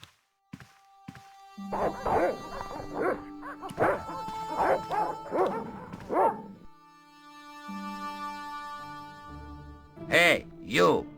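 Dogs bark in the Broken Sword: The Director's Cut PC game at a villa, in several sharp yapping bursts over a few seconds, with a spoken voice in the scene and a later cluster of barks.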